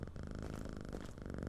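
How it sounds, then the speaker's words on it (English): Steady, continuous purring from a cat being petted in a video game, a close, even rumbling drone that holds for the whole moment with no talk over it. "They've just put the cat in so I can pet it"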